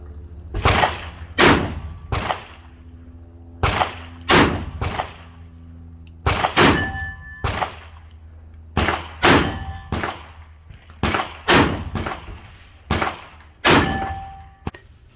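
A Smith & Wesson Highway Patrolman .357 Magnum revolver fires about a dozen loud, sharp shots in uneven pairs and singles, each ending in a ringing metallic clang from a nearby steel target, with no voices.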